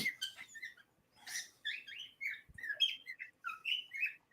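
A pet bird chirping close by: a rapid run of bright, high tweets and short whistles in bursts, with brief pauses and a soft thump, in a quiet room.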